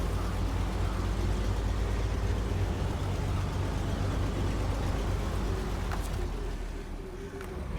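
A truck engine idling and rumbling in the SnowRunner video game, a dense, constant low drone with a brief hiss near the end, steady and fairly loud throughout.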